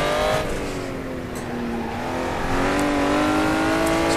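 A Honda NSX engine pulls hard around a kart circuit, a loud, steady rising drone with clear harmonic tones climbing through the gears, close and continuous with no talking.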